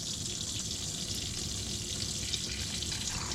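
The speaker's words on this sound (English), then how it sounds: "what we're going to do, run that tap there" A tap runs inside a 2019 Adora 612DL Seine motorhome, giving a steady, close hiss of flowing water that holds evenly from start to finish with no voices.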